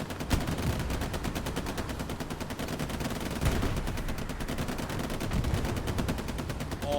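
Dense, continuous gunfire from Hell Let Loose, rapid machine-gun bursts rattling in a steady fast rhythm at moderate distance, with no talk over it.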